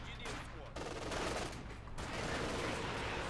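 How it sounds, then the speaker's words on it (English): Rapid gunfire and bursts of machine-gun fire ring out in the real-time strategy game Company of Heroes 2 during a battle around a half-track, dense and loud with brief gaps between volleys. "Here's a firing at the half-track"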